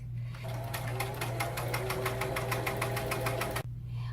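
A sewing machine stitches a tablecloth with mitred corners, running in a fast, even rhythm of needle strokes over a low motor hum for about three seconds, then stopping abruptly.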